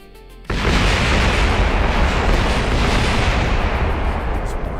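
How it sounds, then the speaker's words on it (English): A rocket vehicle in a spaceflight video game explodes with a sudden loud blast that becomes a sustained, dense roaring rumble. "I still think it's going to explode"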